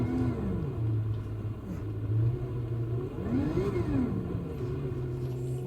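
Car engine in Gran Turismo 7 driven off the road, a mid-pitched hum that rises and falls with throttle and gear changes over a low rumble, steady and close with no talking.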